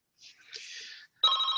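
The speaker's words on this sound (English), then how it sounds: "Oh, sorry, that's my phone going off." A mobile phone ringtone starts abruptly with a bright, steady electronic tone, right after a brief stretch of other sound, during an online talk about police resilience programs.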